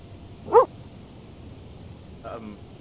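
A dog named Kingy gives one sharp, close bark, followed about two seconds later by a softer, shorter woof or whimper over low background hum.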